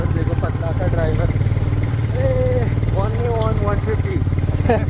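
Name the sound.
motorcycle engine on a mountain road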